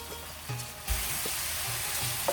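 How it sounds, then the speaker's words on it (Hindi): Minced meat sizzles and fries steadily in its own rendered fat, with no added cooking oil, a close, continuous crackle with a few soft stirring bumps. "कीमे की अच्छी तरह से भुनाई कर लेंगे।"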